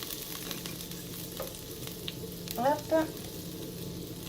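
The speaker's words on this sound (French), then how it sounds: "j'ai mon beurre qui fond tout doucement" Butter melting slowly in a pan gives off a soft, steady sizzle, quiet and continuous, with a few brief clinks of kitchen handling near the end and a short spoken word.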